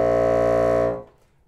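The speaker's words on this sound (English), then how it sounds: "the low B flat, B flat 1, is traditionally the lowest note on the bassoon" A bassoon plays its low B flat (B flat 1), a single deep, reedy note held steadily for about a second, then cut off and fading into silence. No other sounds.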